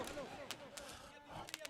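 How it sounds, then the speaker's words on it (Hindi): Fireworks burst at a tournament victory celebration on a polo ground, sharp cracks and pops scattered irregularly, fairly distant and faint against crowd noise and a voice talking. "ये आतिशबाजी देखिए"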